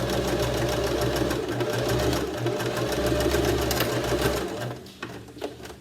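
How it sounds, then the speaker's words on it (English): A sewing machine runs a long straight stitch in one steady, close, loud mechanical whir, then slows and stutters to a stop near the end. "you can sew right over the top of it with a long straight stitch"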